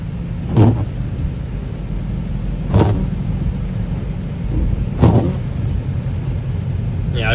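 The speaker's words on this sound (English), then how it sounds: "Yeah, people are going slow. It's rush hour traffic now." Cars pass slowly on a snowy road during rush hour in Illinois, a steady low rumble of traffic with three louder vehicle swells going by at regular intervals, no talk.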